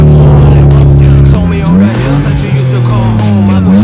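A BMW M2 sports car's engine starts and revs loudly nearby, its deep droning tone climbing and dropping through several sharp revs, with a voice briefly heard over it.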